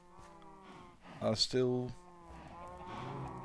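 Minecraft cows moo, a couple of loud, drawn-out lowing calls up close, while someone talks over and around them.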